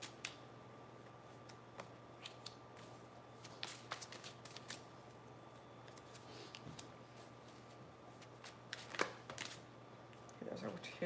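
Wayward Dark tarot cards are shuffled and dealt in a quiet room, soft papery riffles and scattered light snaps and taps coming close and faint at an irregular pace.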